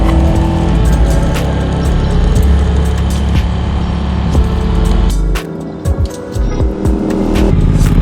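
A bobber motorcycle engine running loud and close, a steady rumbling idle that briefly dips and sputters before settling back.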